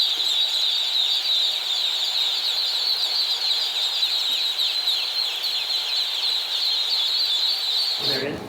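A box full of one-day-old chicks peeping constantly in a dense, high-pitched chorus, close and steady, ending abruptly.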